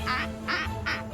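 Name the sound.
duck goose ringtone quacking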